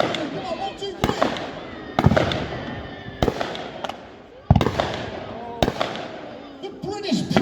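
Explosions from a mock naval battle at Peasholm with torpedoes striking a ship and a submarine's deck gun firing, sharp loud bangs at roughly one-second intervals with crackling and crowd noise, while someone narrates over them.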